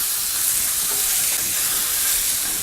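A pan hisses and sizzles loudly and steadily as a garnish with thyme cooks, a continuous close frying noise with no pauses.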